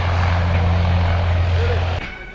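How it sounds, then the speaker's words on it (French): Military transport aircraft with paratroopers of the 25th commando parachute regiment at Bobo-Dioulasso, a loud steady propeller engine drone that cuts off abruptly near the end. "L'avion peut à présent mettre le cap sur le ciel de la zone de saut du camp Wezin Koulibaly."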